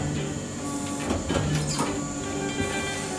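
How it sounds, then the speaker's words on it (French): A bakery dough divider cutting traditional baguette dough into 20 pieces runs with a steady, dense mechanical hiss and rumble, with faint clanks and sliding scrapes rising briefly near the middle. "la machine, elle va directement découper en 20 bâtons"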